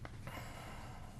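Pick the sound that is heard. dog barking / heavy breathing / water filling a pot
heavy breathing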